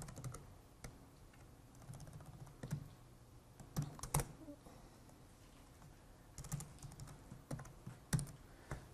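Scattered keystrokes on a computer keyboard while writing C++ code, irregular sharp clicks with short pauses between flurries, close but quiet over a faint background hum, no talking.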